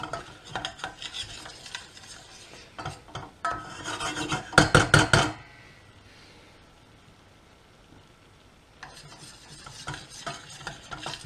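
A flour and butter roux being stirred in a pan for lasagne, a steady scraping and rasping of the utensil against the pan with a louder burst of vigorous stirring midway, then a quieter stretch before the stirring picks up again.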